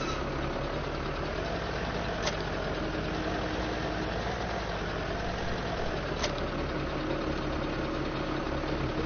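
A tractor engine idling steadily in Farming Simulator 17, a constant low mechanical drone with no talk, broken by two faint clicks.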